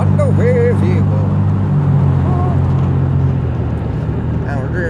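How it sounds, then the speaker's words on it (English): A car drives along with a steady low engine and road rumble running throughout, while people talk over it. "Now we're just driving"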